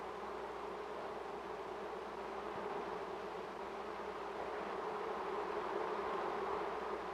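Worker bees buzzing in a steady, dense drone that holds at an even level throughout, with no voices over it.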